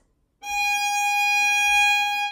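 Bowed string instrument holding a single G sharp half note for two beats, a clear steady tone entering after a short silence and sustaining evenly to the end.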